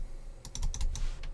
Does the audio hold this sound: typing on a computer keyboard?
yes